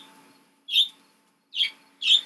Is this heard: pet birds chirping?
yes